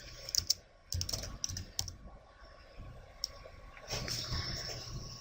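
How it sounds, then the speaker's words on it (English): Someone types on a computer keyboard to search for a program, with scattered quick clicks and short bursts of keystrokes, close and fairly quiet, ending in a slightly louder flurry. "I'm just going to type it in here to find it"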